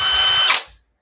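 A power drill revs loudly at high speed in a steady whine, then winds down and cuts off near the end.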